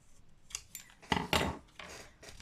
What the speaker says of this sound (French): Ici, on va découper.